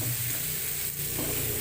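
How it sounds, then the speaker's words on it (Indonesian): Ground spice paste sautéing in hot frying oil in a wok, a steady close sizzle and crackle with faint stirring scrapes, no voices. "Tumis bumbu hingga matang"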